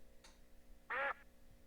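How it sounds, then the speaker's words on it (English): A single short nasal quack blown from a horn, clear and close, with a faint click just before it and quiet background otherwise. "You hear a quacking sound."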